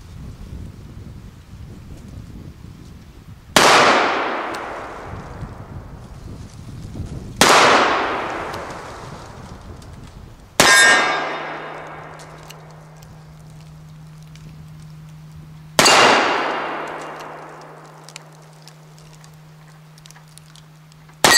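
An 1860 Army revolver fitted with a Taylor's & Co cartridge conversion cylinder fires four loud, sharp shots a few seconds apart at steel targets, each crack trailing off in a long ringing decay, with a low hum under the later shots.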